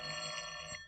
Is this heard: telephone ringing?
yes